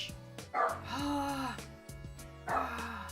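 Grandpa's dog barking and yipping from another room during Persona 4 Golden gameplay, a few short barks with whiny tones mixed in, moderately close and mixed with game music.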